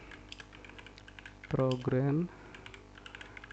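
Rapid typing on a computer keyboard, a steady patter of light key clicks running throughout, close and fairly quiet, with a single spoken word cutting in briefly partway through.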